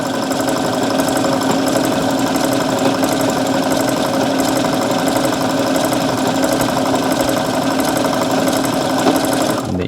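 A sewing machine run flat out at full pedal gives a loud, steady, fast mechanical whir and rattle, continuous and close, with no pauses across the whole stretch.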